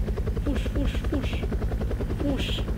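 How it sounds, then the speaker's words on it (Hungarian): A helicopter's rotor beats with a steady low throbbing pulse and engine drone while a voice calls out over it, with a few sharp bursts above the noise. "Ott a helikopter vár ránk!"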